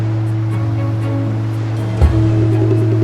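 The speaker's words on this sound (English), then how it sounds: "I know, it's the sound of gongs and drums." Gongs and drums sound at night from a mist-shrouded river ship in a video game, a steady low rumbling drone with a louder hit around two seconds, heard from a distance with no talking.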